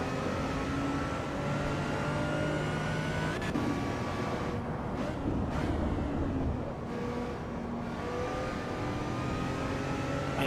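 Car engine in the racing game Assetto Corsa EVO, a steady whirring drone with rising and falling pitch as the car accelerates and shifts, continuous and moderately loud.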